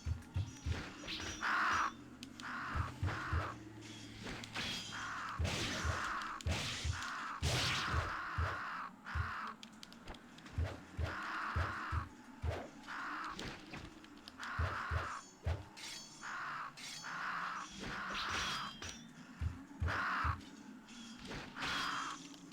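Crows caw repeatedly in the video game Onimusha: Warlords, a busy run of harsh calls over game ambience, with a steady stream of fairly loud caws throughout.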